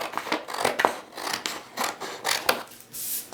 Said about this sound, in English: you're just going to cut it along this center line right here